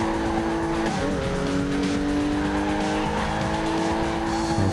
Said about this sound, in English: A few improvements there in the drifting as we come across the finishing line